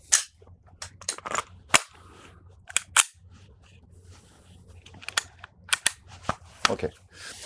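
Several shooters fire pistols on an outdoor range in quick, uneven volleys of sharp cracks, some overlapping and some spaced apart, loud and close over a faint background hum.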